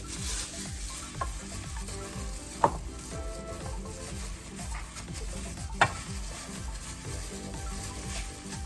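Butter being crumbled by hand into a banana pudding crumble topping, a soft continuous rubbing and crackling texture with a couple of brief sharper clicks, close and quiet, no voices.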